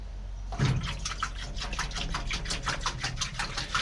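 Greasy hands washed in diesel, close wet splashing and rubbing starting abruptly, then a steady run of small liquid slaps and swishes, with no talk.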